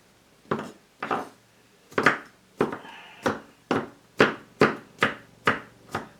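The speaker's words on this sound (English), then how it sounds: "these are about 4 cloves of garlic, because we like garlic, and I'm going to chop it up here a little bit to make it finer" About ten sharp knife chops on a cutting board, evenly spaced and close, as roughly four garlic cloves are chopped finer for an Instant Pot green chili chicken enchilada soup.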